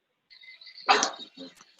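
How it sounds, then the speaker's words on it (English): A pet dog barking and yipping at home, a few sharp barks in quick succession, fairly close and moderately loud, with some high whimpering tones before them. "Sorry, my dog's going nuts."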